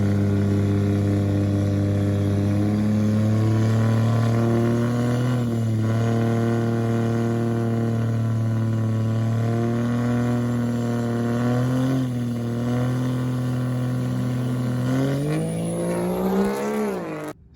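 Trucks drag racing in a final round: a loud, steady engine drone holds for about fifteen seconds, then pitches up sharply into a rising rev near the end.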